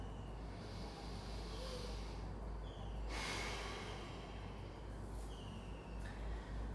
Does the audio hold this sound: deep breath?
yes